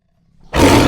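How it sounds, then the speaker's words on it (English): A tiger's roar bursts in loud and close after a near-silent start, sustained and rough to the end, used as a story sound effect. "The tigers shouted loudly while rolling around and holding his face"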